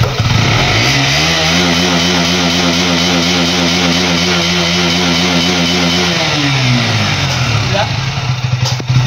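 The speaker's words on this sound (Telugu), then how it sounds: "దగ్గర 3 సంవత్సరాలు అయితే బండి సైడ్కి పెట్టేసి ఒక్కటే సెల్ఫ్ స్టార్ట్ అయింది" A motorcycle left parked and rusting for three years runs after a self-start, its engine idling loud and close in a steady drone that rises in pitch, holds, then settles back down.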